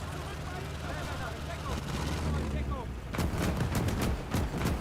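Gunfire in the World War II game Call to Arms: Gates of Hell, with a Wehrmacht conquest battle rumbling underneath before sharp repeated shots crack out in rapid, loud bursts, mixed with battle noise and under speech.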